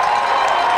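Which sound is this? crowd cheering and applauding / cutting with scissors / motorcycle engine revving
crowd cheering and applauding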